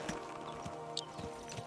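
A horse in Kingdom Come Deliverance 2 clip-clops along at a steady walk, its soft, evenly spaced hoof thuds quiet against a low background.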